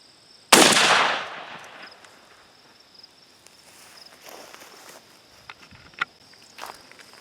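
A Girsan MC 312 semi-automatic shotgun fires a 3-inch shell of #2 shot through a full choke outdoors: one sharp, loud blast with a long fading tail, then quiet ambience with a few small clicks.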